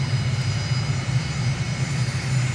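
Airbus airliner jet engines in a flight simulator give a steady, continuous roar: a constant low drone under a broad rushing hiss that never changes pace, with no voices.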